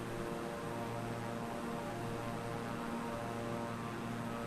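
A propeller plane's engine drones on steadily in MS Flight Simulator as the aircraft comes in to land, producing a constant, even hum with no talk.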